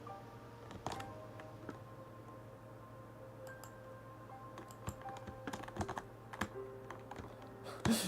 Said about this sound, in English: I knew it was the keyboard.